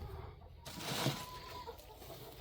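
Broody hen on a small farm giving short, agitated clucks, fairly quiet and close, with a brief rustle partway through.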